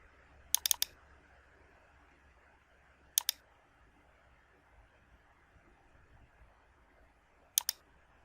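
Sharp computer mouse clicks in design software, quiet and close, coming in three short clusters of double and triple clicks against a faint background hiss.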